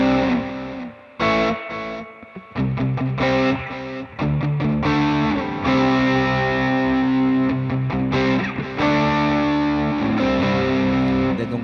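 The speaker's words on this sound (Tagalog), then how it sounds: "So, lagay muna natin yung ating distortion at yung delay." Electric guitar played through an M-Vave Chocolate stomp box with distortion and delay, sustained overdriven chords and notes ringing with echoing repeats, loud and continuous with brief gaps.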